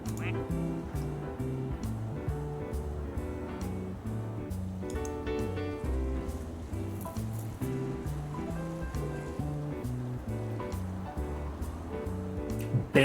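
A plastic duck character voiced in Plastic Duck Simulator quacks out short phrases in a rhythmic string over looping game music, with frequent small clicks throughout.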